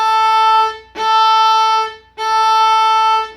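Viola bowed on the open A string, three sustained quarter notes in a steady pulse, each a loud, clear tone with brief gaps between bow strokes, played alone.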